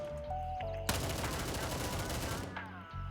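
Rapid gunfire crackles loudly in the video game Gray Zone Warfare, fired on semi-auto single-fire mode, and the shots run together into a dense volley for over a second before a low in-game hum returns.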